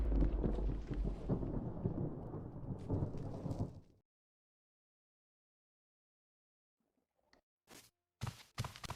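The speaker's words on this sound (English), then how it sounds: "after 5 seconds I got struck by lightning again and didn't survive it this time" Thunder and lightning strikes in Minecraft: a loud, sustained rumbling roar fills the first four seconds, then silence, then a few sharp, sudden cracks and bursts near the end.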